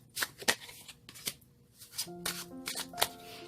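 Playing cards are shuffled by hand in quick, soft riffling bursts, close and fairly quiet, with brief pauses between shuffles and no talk.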